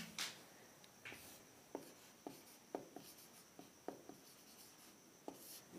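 Someone writes on a board during a maths lesson on LCM and HCF, producing faint scratchy strokes and soft taps at an uneven pace, with no talking.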